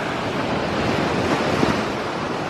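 Surf washing steadily along the rocky West Somerset shore at Blue Anchor, a continuous broad roar of breaking waves mixed with gusty wind buffeting the microphone, no voices.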